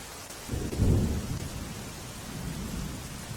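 Rain falls steadily over Vadodara, Gujarat, while a deep thunder rumble swells early on, then settles back into a constant wash of rainfall.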